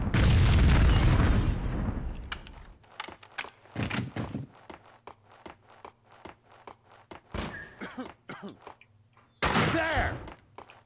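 Gunshots and explosions in Max Payne 2 as objects are shot, opening with a heavy rumbling blast, then a string of sharp separate pops and thuds, with a second loud burst near the end.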